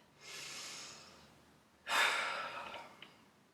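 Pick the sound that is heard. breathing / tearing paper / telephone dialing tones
breathing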